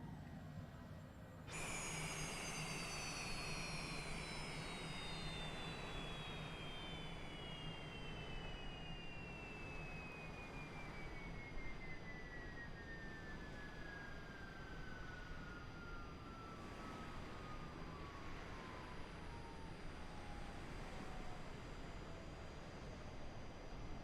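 Citation Longitude jet engines spooling down after shutdown in a flight simulator, a steady whine gliding slowly downward in pitch over a constant rushing hum, no talking.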